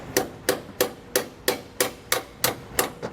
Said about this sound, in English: sometimes you might need a metal hammer for the striking the head of these bolts to get them to drive in